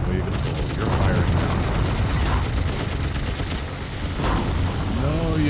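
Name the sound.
gunfire in the video game Wings Remastered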